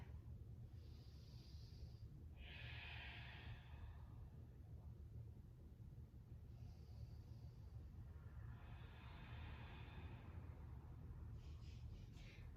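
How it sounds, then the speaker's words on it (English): Slow, controlled breathing during a vinyasa yoga practice: two soft, drawn-out breath cycles of airy hiss, each lasting a few seconds, quiet against a low steady background hum. "See if you can gently slow the breathing down just a little bit without forcing it"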